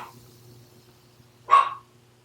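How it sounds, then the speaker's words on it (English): A dog at home gives one sharp, fairly close bark in an otherwise quiet room with only a low background hum. "My dog started barking"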